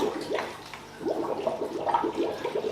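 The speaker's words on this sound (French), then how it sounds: "Et ça commence à aspirer de l'eau qui va rentrer dans le filtre, qui remplit le filtre." An Oase Biomaster Thermo 600 canister aquarium filter priming and drawing water into its body: close, gurgling, sloshing water with irregular bubbly pulses, moderately quiet and with no talking.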